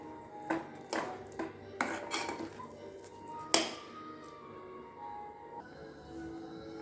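Clinks and scrapes of a utensil against a greased plate as kesari barfi mixture is scooped out and spread, several sharp knocks followed by softer scraping, close and with no voices.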